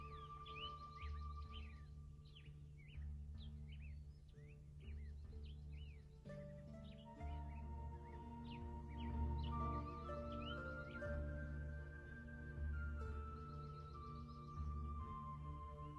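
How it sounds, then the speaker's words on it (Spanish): Various birds at the Palenque ruins sing and chirp in repeated quick notes over a low steady background hum, faint and distant-sounding, with no voices. "su magnífica flora y fauna, en donde destaca una gran diversidad de aves"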